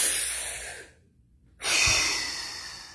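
A breathing exercise with loud, close exhales and inhales through the mouth: one long breath that fades, a short silent pause, then another strong breath that tapers off.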